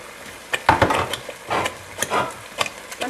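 Thick homemade spaghetti sauce in a pot on the stove bubbles and sploshes in irregular soft bursts, close up, with no talking.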